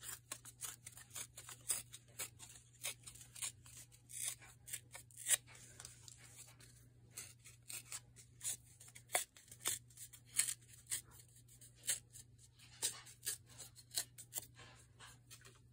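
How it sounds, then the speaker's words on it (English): Paper for a craft project is torn and handled by hand in a long run of quiet, close, irregular rips and crinkles, with a low steady hum underneath. "so I want to tear here"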